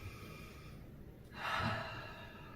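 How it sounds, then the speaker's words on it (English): A single deep breath, drawn in sharply and audibly up close, during a tapping exercise guided with peppermint essential oil, with a quiet room hiss before and after. "take a deep breath"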